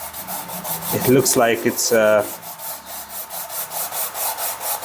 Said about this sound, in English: So now I sand it up